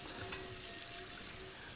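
Warm tap water runs steadily onto a carbon steel pan in a sink, a constant close splashing hiss with no voices.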